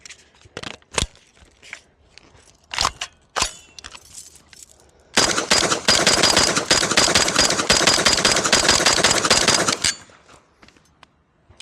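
A Kalashnikov USA KP9, an AK-style pistol, fires a scattering of single sharp shots with clicks between them, then a dense rapid burst of about five seconds, then a few more scattered cracks, close and loud.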